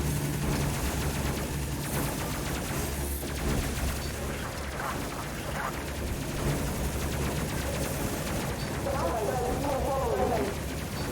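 Rapid, continuous gunfire from a spaceship's bow gun in the video game Space Crew, a dense loud barrage running throughout with game effects layered over it.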